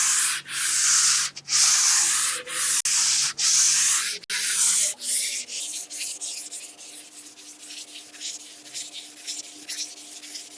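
A sanding block with sandpaper rubs over wall putty in long rhythmic strokes, loud scratchy swishes with brief pauses, then turns to quieter, quicker scrubbing near the end.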